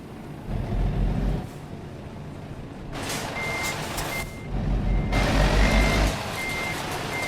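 A truck in American Truck Simulator backs up to trailers, its reversing alarm repeating steady evenly spaced beeps over a low diesel engine rumble, with brief air-brake hisses between.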